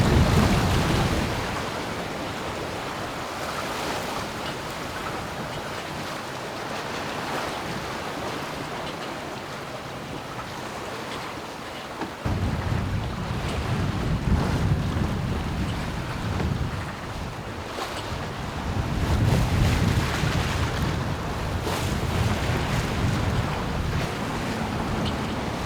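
A sailboat moving at good speed across open sea, with steady roaring wind buffeting the microphone and the rush and slap of waves against the hull, continuous and loud throughout with no voices.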